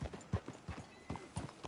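Horse hooves clip-clop at a walking pace in Red Dead Redemption 2, a soft, close run of uneven thuds over about two seconds with no talk.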